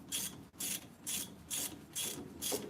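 A hand ratchet tightens bolts on the brakes of a 1951 wrecker truck, six rhythmic bursts of close clicking, evenly spaced, with no talk.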